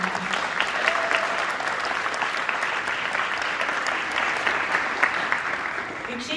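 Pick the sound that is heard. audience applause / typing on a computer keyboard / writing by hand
audience applause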